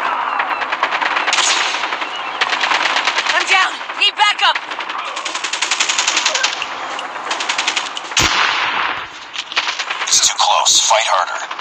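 Rapid automatic gunfire and single shots crackle through a firefight in the mobile shooter Call of Duty Mobile, loud and nearly continuous in bursts, with voices talking over the action.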